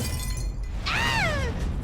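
A drinking glass drops and shatters indoors during a home scene, one sharp crash with ringing glass tones ringing out over a steady background hum.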